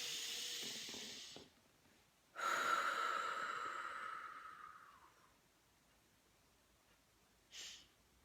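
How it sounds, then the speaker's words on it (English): A single deep breath in during a calm tapping session: a brief inhale, then a long, slowly fading exhale that whooshes out, close and quiet, followed by a short faint puff. "Deep breath."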